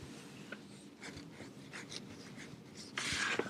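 Chalk or marker scratching and rubbing across a board while a diagram is drawn during a physics lecture, with continuous short strokes and a louder scraping burst near the end.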